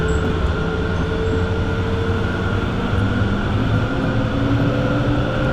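Tram running on the Frankfurt U-Bahn light rail network in Train Simulator Classic, a steady continuous rumble of wheels and motor with a faint tonal whine throughout, loud and close with no talk.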